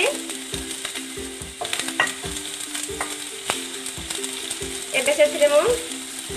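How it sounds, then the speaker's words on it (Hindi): Onion slices frying in hot refined oil in a home kitchen pan, a steady close sizzle with stirring clatter and scrapes, a louder bubbling burst near the end. "मु एबे सेतरे किछि प्याज को ऐड कर देछि।"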